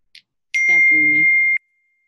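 A phone notification rings out as a single bright sustained ding lasting about a second, loud and close, with a brief faint tick just before it and silence around it.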